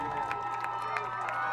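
Spectators at a Finnimore high school football game cheer and shout at a distance, a continuous broad roar swelling slightly with rhythmic pulses, as though chanting along.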